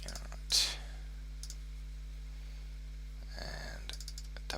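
Two quick mouse clicks in a quiet room, a sharp double click near the start, with later light clicking and faint handling noise over a steady low electrical hum.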